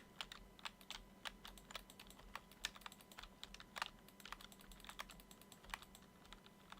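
Rapid, irregular clicking of keys on a computer keyboard, close and steady, with a low hum underneath and no voices, as someone types out chat messages during a Minecraft-style building stream.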